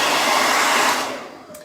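A hair dryer blows steadily and loudly at close range over freshly painted acrylic craft paint on a wooden Hello Summer door hanger, then its roar tapers and fades as it pulls away near the end.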